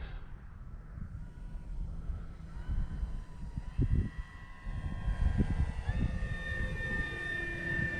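An E-flite Carbon Z T-28 electric RC plane makes a slow, low pass, its motor whine rising and shifting in pitch as it nears and passes, with steady wind buffeting throughout.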